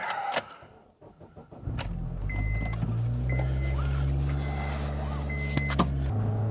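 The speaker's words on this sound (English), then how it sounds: "So I got the car running" Honda car running after a K24Z3-A2 cylinder head swap, a steady low engine hum that settles into an even idle after a brief rustle and a few knocks, heard close with faint mechanical whines on top.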